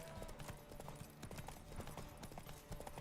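Horses' hooves clopping on a racetrack in The Witcher video game, a dense, steady patter of many hoofbeats at moderate volume over a background bed of game sound.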